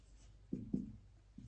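Letters are written on a board during an English grammar class, three short scratchy strokes of marker or chalk, close and fairly quiet, with no talking.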